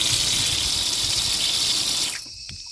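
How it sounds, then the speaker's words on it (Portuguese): Water gushes steadily from an opened tap in a strong, close, hissing stream, then cuts off abruptly near the end, leaving only a faint drip and quiet. "e quando você abrir a torneira"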